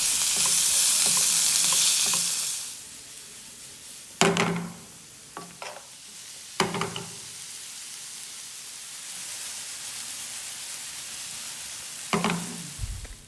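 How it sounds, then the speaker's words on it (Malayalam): Chopped masala spices for sardine masala sizzle in a hot frying pan, a loud hiss at first that settles into steady crackling, broken by several sharp scrapes and stirs of the spatula. "എന്നിട്ടൊന്ന് വഴറ്റിയെടുക്കുകയാണ് വേണ്ടത്."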